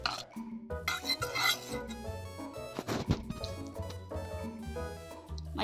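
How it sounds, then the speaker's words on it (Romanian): A spoon clatters and scrapes around a metal pot while love potion ingredients are stirred, with several sharp clinks and knocks in an uneven rhythm, loud and close. "Și acum amestecăm."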